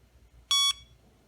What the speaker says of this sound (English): once all of the cells are fully charged, the alarm will go off to let you know it has finished charging